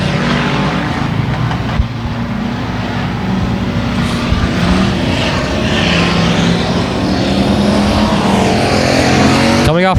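Race cars roar around a speedway oval, a dense, continuous engine drone that stays loud throughout as the cars come off a turn, with a faint commentator's voice underneath.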